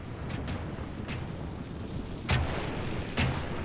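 Battle gunfire in the strategy game The Dominion of Isengard, a dense continuous rumbling roar of massed shooting with two heavier booming shots standing out near the end.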